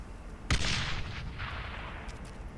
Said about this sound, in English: I just threw a grenade over here, and it exploded